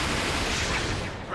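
A roaring energy blast from a Dragon Ball video game finishing move, the Kamehameha, rushes as a dense, loud, sustained wash of noise that swells and holds for just over a second.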